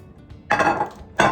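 A glass pan being handled in a home kitchen while making lasagna, two short knocking clinks as it is set down or moved, close and fairly loud.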